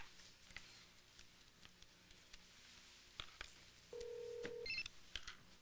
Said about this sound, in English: maybe I will call her. On her cell phone.